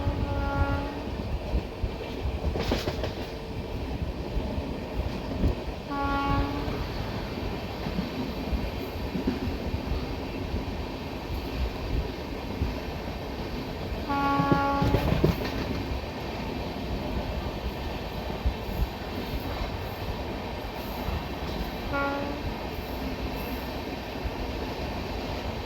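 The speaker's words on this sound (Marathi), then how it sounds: "आता क्रॉसिंग होणार आहे गाडी नंबर 12617 मंगला लक्षद्वीप एक्सप्रेस बरोबर. तर चला आता आपण या गाडीचं क्रॉसिंग बघू आणि या गाडीला लीड करतोय WAP7 लोकोमोटिव्ह" The Mangala Lakshadweep Express hauled by a WAP7 electric locomotive passes by at a crossing, a steady rolling rumble of wheels and coaches throughout, with several short horn blasts that stand out over the noise.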